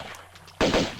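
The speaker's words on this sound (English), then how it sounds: "some of the enemies can take pot shots at you from the ground" Gunshots from enemies in the video game Tomb Raider 2, a sudden burst of loud shots cutting in after a quiet stretch of game ambience.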